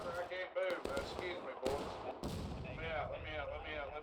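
Gunfire in a Civil War battle video game set at Antietam, with sharp repeated musket and artillery reports scattered through the clip, mixed with battlefield din and a voice talking over it.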